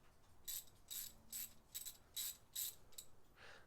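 A Koken Z-EAL 3/8-inch drive ratchet handle gives several short bursts of fine, quiet clicking in an uneven rhythm, close up and on its own.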